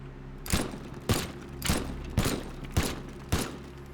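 Six evenly spaced pistol shots ring out in the video game Teardown, each a sharp, loud crack with a short tail, fired at a steady pace of roughly one every half second.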